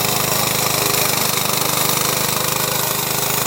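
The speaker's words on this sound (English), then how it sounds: "it will dive into the messy grass with its blades spinning at high speed, causing grass debris to fly around" A Koham remote-controlled tracked robot mower drives its high-speed spinning blades through messy grass, giving a loud, close, continuous engine drone with a rapid rhythmic chatter.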